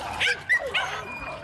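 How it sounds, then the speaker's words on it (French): Small terrier dogs yip and bark excitedly while hunting rats, giving a few short, sharp bursts close by with a brief whimpering tone between them. "Ces bénévoles préfèrent les chiens."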